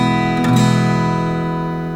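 Acoustic or electric guitar chord strummed cleanly with fingertips placed just behind the frets, ringing out steadily and sustaining evenly for two seconds with a bright, full tone.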